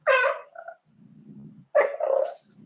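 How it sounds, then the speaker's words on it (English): A pregnant cat meows close by, two distinct vocal cries separated by a soft, low growling murmur, with another low rumble trailing at the end. "And there's a cat coming. She's pregnant."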